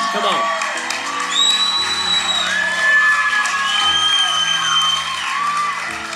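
A church congregation shouts, whoops and cheers back at a preacher, a loud, sustained crowd roar with overlapping voices throughout.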